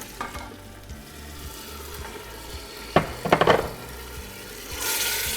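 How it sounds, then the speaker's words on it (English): Tomatoes drop into a pan of sizzling sautéed onions and garlic, with a steady fry hiss, a few sharp clatters and stirring scrapes, then a louder burst of sizzle near the end. "I'm going to put the tomatoes in."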